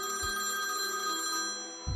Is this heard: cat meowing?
no